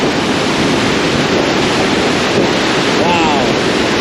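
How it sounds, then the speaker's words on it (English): Steady wind rushes and blows out of a tunnel beside the water, a continuous broadband roar that stays loud and unbroken throughout with no voices over it. "I can feel the breeze coming from that tunnel there"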